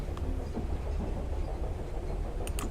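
A train in a video game runs with a continuous low rumble and faint rhythmic rattling, steady and moderately close, with a couple of brief sharp clicks near the end and no speech.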